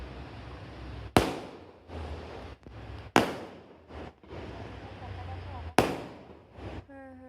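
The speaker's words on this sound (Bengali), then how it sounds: "এই সুন্দর বাজি ফাটানো দেখতে দেখতে আমার এই ব্লগ শেষ করছি" Fireworks set off in front of a house during a Kojagari Lakshmi Puja celebration: three sharp, loud bangs, each followed by crackling and rumbling, with steady background noise and a faint whistling rise near the end.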